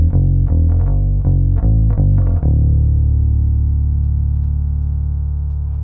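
A Sandberg California bass plays a quick series of close, plucked notes, then one deep note rings out and sustains after the low E string is dropped to D with a Hipshot detuner lever.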